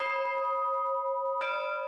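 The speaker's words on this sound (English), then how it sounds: "Artisanal knowledge that's keeping the music of bells alive throughout the world." Bells from an artisanal bell foundry in Agnone, Italy ring out loud and close, with a sustained metallic hum and rich overtones, then a fresh strike that renews the clang.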